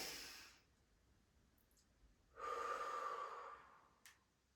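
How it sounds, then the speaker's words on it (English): Deep breathing in a yoga session: a long breathy exhale at the start, a pause, then a fuller, louder drawn breath a couple of seconds later, close and alone with no talking. "we're going to take a deep inhale with our arms"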